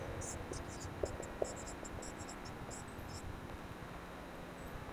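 Chalk or marker scratches across a classroom board while an equation is written, a run of quick, light scraping strokes with a couple of sharp taps, over a quiet room tone and faint low voice.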